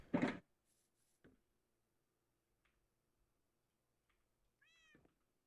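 A pet cat gives a short meow near the end, after a brief louder burst of noise at the start, with mostly quiet room sound in between.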